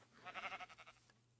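A Minecraft sheep gives one short, faint bleat with a quick stuttering tremolo, heard alone against a quiet background.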